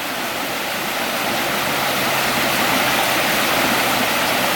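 A river at Santa Margarita Preserve flows steadily in a dense, even rush of water that holds loud and unbroken throughout.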